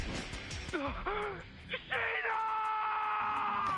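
A female character in Death end re;Quest screams in a battle scene, starting with strained groans and gasps, then breaking into a long, high, sustained shriek that stays loud to the end.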